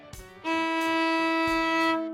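A single sustained bowed violin note, first finger on the D string, steady and clear, played alone after a soft thump, held for about two seconds.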